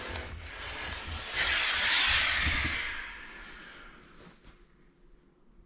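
Steam iron pressing a thick cotton shirt yoke: a broad hissing burst of steam swells over a couple of seconds, then fades to a soft rustle, close and alone with no talking.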